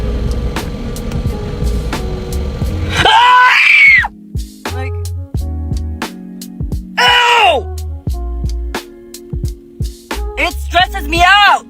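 A woman in a clip posted online screams and groans in several loud, strained bursts, broken by short pauses and sharp noises.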